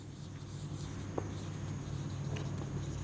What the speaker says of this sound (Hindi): मैं यहाँ लिख भी देता हूँ